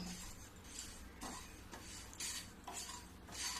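Nigella and carom seeds dry-roasting in a pan, stirred with a utensil in intermittent scraping strokes against the metal, moderately close and fairly quiet.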